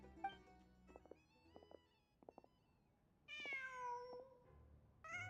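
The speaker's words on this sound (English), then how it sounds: "Huh. Just a cat." A cat in the Genshin Impact video game meows several times, short mewing calls at first and then a longer drawn-out meow, with no talking over it.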